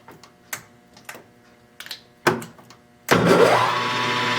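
A metal lathe spinning up to about 800 RPM to face off a part: scattered clicks and clunks of setup, then the motor suddenly starts with a steady loud whirring hum that holds to the end.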